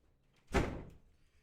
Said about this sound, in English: My door is slammed shut.